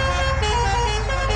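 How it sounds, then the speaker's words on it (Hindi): A truck horn blares in a truck simulator video game outside a factory, one loud, steady, sustained honk with a rich tonal blast that holds for over a second with no talking. "शुक्र है फैक्ट्री के बाहर आके हॉर्न बज गया,"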